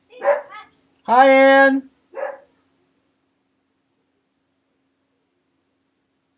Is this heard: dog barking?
yes